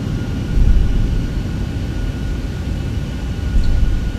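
A jet airliner in the X-Plane 11 flight simulator taxis off the runway toward the Area 51 buildings, its engines producing a loud, steady broadband roar with low rumbling swells throughout and no voices.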